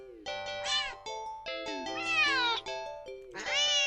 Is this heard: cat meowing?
yes